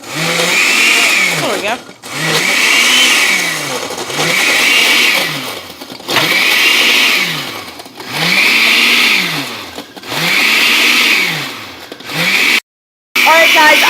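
A blender whirs loudly while blending a smoothie, running in long surges with brief pauses between bursts, cutting out near the end, with a few spoken words over the motor.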